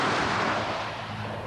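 Anti-tank weapon fired by air assault troopers at an enemy tank, a loud blast already underway that decays into a broad, rushing roar over a second and a half.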